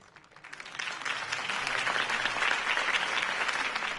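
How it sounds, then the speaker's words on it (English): A large crowd bursts into sustained clapping and cheering after a campaign speech in the Batman Telltale video game, rising quickly and holding loud and dense without any talking. "If only Mr. Wayne, my campaign's largest backer, could have heard that applause, he would well, there he is."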